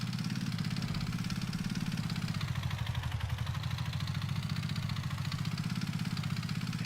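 Vehicle engine in the VR strategy game Brass Tactics, a steady mid-pitched idling drone with a fast throbbing pulse that holds level for several seconds, close and unbroken, no talking.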